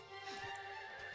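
Light horses in a video-game battle neigh and whinny at low volume over a steady hum, with faint hoof clatter and no voices.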